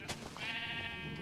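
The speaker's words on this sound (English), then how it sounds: "These are my sheep farms, which are all switched off at the moment." Sheep on a video game sheep farm give a single drawn-out bleat, wavering and nasal, heard alone at moderate volume after a brief click.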